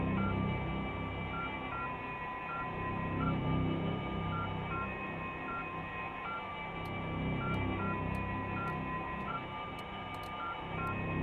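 A radio dial being turned in the game South of the Circle produces steady stepped electronic tones and hiss, shifting pitch in regular intervals, with faint clicks toward the end.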